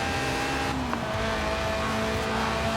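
A mid-engined Lotus Elise in Forza Horizon 4 holds a steady, fairly loud engine note with a faint tire hiss, rising slightly in pitch over a few seconds.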